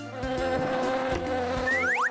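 A cartoon fly buzzes steadily and close, a continuous droning hum throughout, with a few rising whistle-like swoops near the end.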